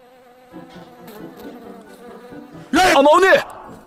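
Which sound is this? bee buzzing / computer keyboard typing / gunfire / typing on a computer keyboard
bee buzzing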